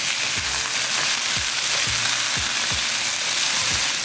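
Ground lamb frying in a hot pan for crunchwrap filling, a steady close sizzle with a series of soft scraping thumps as the browned patties are flipped, about seven evenly spaced turns.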